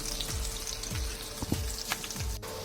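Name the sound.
shallots and cumin seeds sizzling in hot oil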